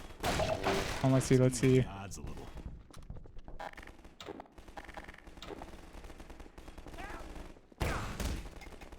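Gunfire in the Half-Life 2 video game: a dense burst of rapid shots at the start, then quieter scattered fire and a final loud blast near the end, with a person talking briefly over it.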